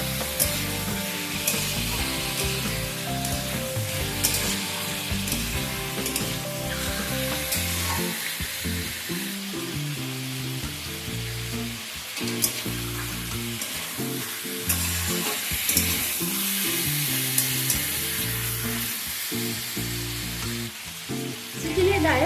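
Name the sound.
chicken frying in pan on medium-high flame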